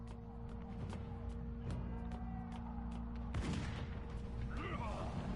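Gunfire and explosive booms in the video game Van Helsing II, heard as a dense barrage of shots and blasts over a steady droning background, with a heavier burst of impacts partway through.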